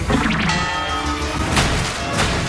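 A cartoon character is smashed into the ground by a hammer, a dense crashing, thudding impact with busy cartoon sound effects and music running loud and continuous over the whole stretch.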